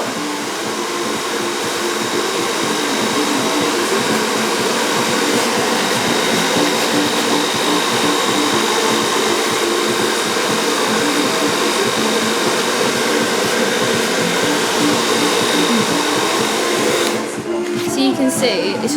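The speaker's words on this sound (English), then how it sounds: "you want to blow dry it forwards, and then dry it back" A hair dryer blows steadily and loudly at close range while a man's beard is dried at a Soho barbershop. The roar stays constant for nearly the whole stretch, then cuts off abruptly near the end.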